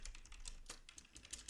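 Keys clatter on a computer keyboard in a quiet, uneven run of light taps and clicks, close but faint, with no speech.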